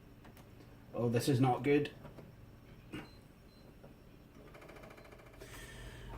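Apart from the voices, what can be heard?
failing DVD optical drive making odd noises while booting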